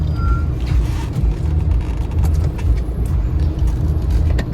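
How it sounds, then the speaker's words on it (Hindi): Heavy road traffic crawling through a toll plaza on a long highway road trip, a steady dense rumble of car and truck engines with a reversing beep and brief air-brake hiss. "ये टोल में बहुत ट्रैफिक है, बहुत ट्रैफिक है"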